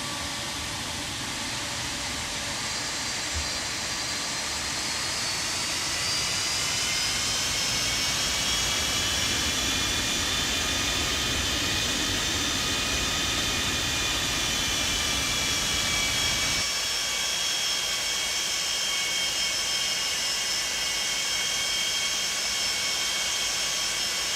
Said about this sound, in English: Let's switch to external view so you can hear the engine sounds.